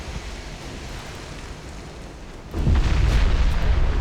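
Big naval guns fire in the warship battle game Ultimate Admiral: Dreadnoughts, a steady roar of sea and wind broken by a loud, sustained booming blast partway through.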